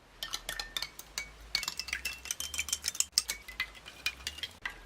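A spoon clinks briskly against the sides of a cup while stirring a lemonade-like drink, a rapid run of close, bright metallic taps that goes on without talk.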